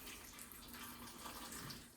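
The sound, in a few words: filling a blender with filtered water for a green smoothie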